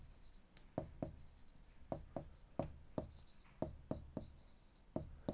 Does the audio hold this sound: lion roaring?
no